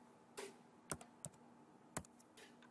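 A computer keyboard is tapped while a value is typed into CAD software for a wind turbine blade design, then Enter is pressed. About half a dozen quiet, sparse, crisp key clicks land close up.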